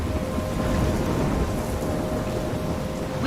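A heavy thunderstorm in the video game Life is Strange, near a lighthouse, gives a dense, steady roar of pouring rain with a low rumble of thunder underneath, loud and continuous throughout.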